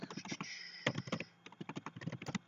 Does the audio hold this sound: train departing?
no